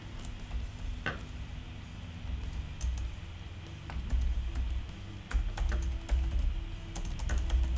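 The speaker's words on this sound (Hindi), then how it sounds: "कुछ भी यहाँ पे मैं टाइप कर देता हूँ" Keys clack on a computer keyboard in a run of quick, irregular taps over a steady background hum, close and fairly clear with no talking.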